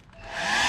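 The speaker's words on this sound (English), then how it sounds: "We also have the dryer as well." A handheld hair dryer starts up in a hotel room, its airy blowing whoosh rising quickly in loudness and holding steady and close.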